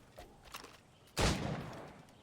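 Gunfire in the video game Assassin's Creed: Rogue, with a faint patter followed by one sudden heavy blast that rumbles and decays, fairly quiet overall with no talking.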